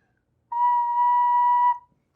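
A recorder sounds a single steady B note, held clean and even for just over a second against silence, then stops.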